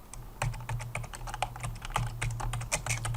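Rapid keystrokes on a computer keyboard as a SQL query is typed, crisp close-up clicks in an irregular quick rhythm with no voice.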